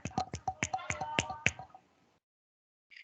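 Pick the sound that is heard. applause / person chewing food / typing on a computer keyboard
applause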